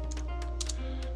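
Computer keyboard keys tapped in a quick irregular burst while a terminal command is entered, close and clear over a steady low hum.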